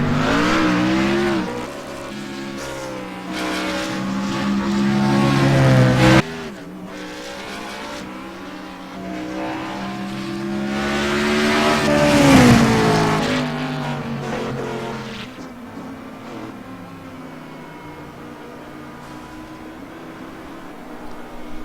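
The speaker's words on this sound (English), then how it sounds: "Kyle Stratchar's driving the MaxSpeedTV Gen 6 out here, no nose clip on it" MaxSpeedTV Gen 6 race car in a racing video game, its engine droning loud and close with rising and falling revs across gear changes, a brief dip mid-run, with tyre squeal around a corner and no talking.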